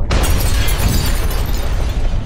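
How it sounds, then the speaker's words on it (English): A big, loud explosion sound effect, a dense roaring boom with deep rumble and crackling debris that stays at full force for the whole stretch, with no voices over it. "There's the big explosion"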